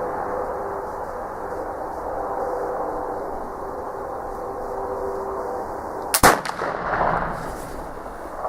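A Traditions PA Pellet flintlock rifle fires once, a sharp, loud blast about six seconds in that rings out briefly over steady outdoor ambience.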